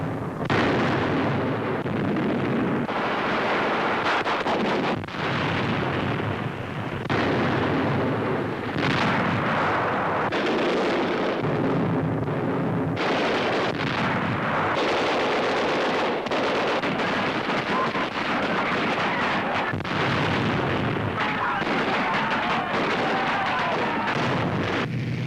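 Live ammunition fire roars continuously during a 1943 U.S. Army beach invasion rehearsal, with invasion barges moving ashore. Dense booming bursts and blasts overlap throughout, loud and sustained with little letup.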